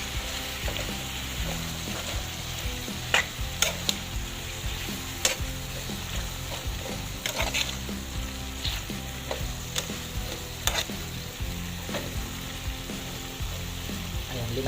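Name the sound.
okra adobo cooking, stirring and sizzling in a pan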